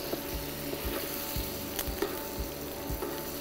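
Melted butter spooned over fish in a hot pan sizzles steadily at a low level, with a soft scrape of the spoon coming roughly every half second.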